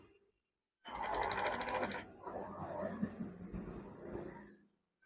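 A sewing machine stitches a wave-style curtain, a loud steady mechanical whir that starts abruptly, runs in a dense rapid pulse for about a second, then continues more unevenly at lower level before cutting off.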